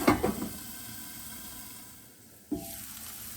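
Sliced fennel sizzles in a hot pan, a bright hiss that is loudest at first, eases off, then flares again sharply near the end, with no voices.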